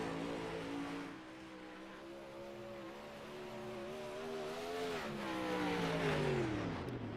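A sprint car qualifying alone on an oval track, its engine note holding a steady, loud drone with pitch rising and falling through the laps as it swings around the corners, with no voices over it.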